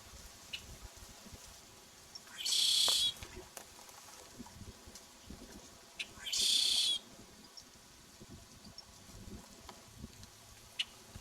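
A red-shouldered blackbird calls in Cuba, giving two loud, buzzy, wheezing notes about four seconds apart over a quiet outdoor background with faint crackles.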